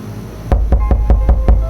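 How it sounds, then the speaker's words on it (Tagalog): Six evenly spaced knocks on a door in the middle of the night, quick and close with a low thudding body, beginning after a short quiet pause. "may kumatok sa pinto ko. Mahina lang, pero sunod-sunod."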